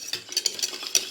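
A large whisk stirs béchamel sauce in a pan, its wires scraping the pan in quick rhythmic strokes for about a second, close and clear with no talking.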